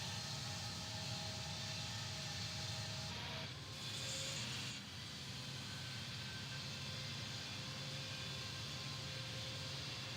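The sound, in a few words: airplane takeoff roll in Infinite Flight video game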